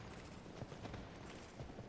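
A two-headed, six-legged horse gallops in the video game Dark Souls II, its hoofbeats a steady, busy clip-clop rhythm over a dense, continuous game soundscape at moderate loudness.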